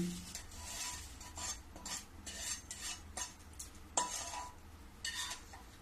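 Roasted semolina is scraped and tipped from a wok (kadhai) onto a plate for homemade laddu, with repeated close metallic scraping strokes of a spoon against the pan and soft rustling of the grains, no voices.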